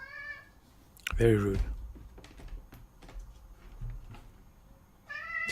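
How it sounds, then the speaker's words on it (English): A cat meows in a short, fairly close call, with people talking before and after it and some light tapping in the background. "that cat was walking all over his Quran"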